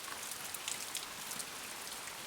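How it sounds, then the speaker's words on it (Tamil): In a Tamil cartoon story, steady rain pours down with a dense, even hiss and scattered drops pattering on a surface, continuous and fairly close, with no voices. "மழை வேற வந்துட்டு இருக்குது"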